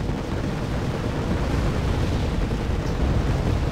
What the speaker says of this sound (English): Big 29S coming in to bomb these.